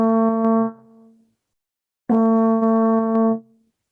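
Two sustained trombone notes on concert B flat at the top of the staff, each under a second long, played one after the other with a short pause, clear and steady with a crisp attack.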